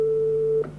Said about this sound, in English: if we switch over to the square wave, there's our sort of pure square wave